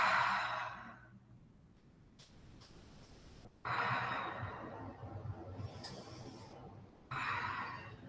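Slow, audible breaths during a yoga stretch in a studio, with long airy exhales and inhales rising and falling close by, alone without talk.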